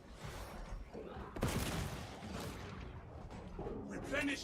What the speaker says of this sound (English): Thank God for the Inferno pistol.